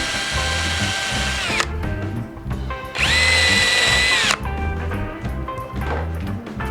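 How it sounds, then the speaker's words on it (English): A power drill pre-drills through a wooden picket, not quite into the furring strip behind, for a DIY flower planter, whining loudly in two sustained bursts with a slight pitch drop as each ends, over steady background noise. "I'm going to pre-drill here, but not all the way into the furring strip, just through"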